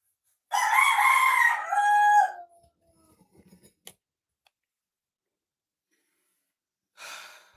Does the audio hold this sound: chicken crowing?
yes